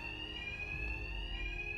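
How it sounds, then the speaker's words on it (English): A continuous electronic alarm rings during a Batman Arkham Knight heist, a steady high tone with a low rumble beneath, heard alone at moderate loudness. "My attacks will be covered by the noise of the alarm."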